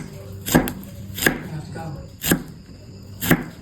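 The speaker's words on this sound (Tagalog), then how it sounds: "Gutaron lang nato og nipis ang okra." Okra being sliced thinly with a knife on a cutting board, four distinct sharp chops spaced about a second apart, close and fairly loud with a quiet room behind.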